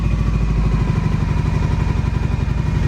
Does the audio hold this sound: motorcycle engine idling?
yes